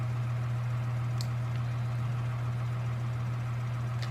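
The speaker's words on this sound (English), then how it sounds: "Let's get a tractor over here." Steady low engine hum of a tractor idling in Farming Simulator 2013 on the Idaho map, a constant drone with no talk, faint high ticks over it.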